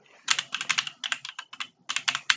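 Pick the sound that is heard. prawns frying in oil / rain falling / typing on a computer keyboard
typing on a computer keyboard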